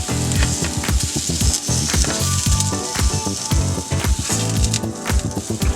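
Sausage patties sizzle loudly in a hot pan, a steady crackling fry broken by sharp pops and the scrape and clatter of a utensil, close up, with no talk.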